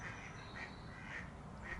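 A startled wild duck on the water quacking after a mink swam beneath her, four evenly spaced calls at a distance, faint over steady outdoor background noise.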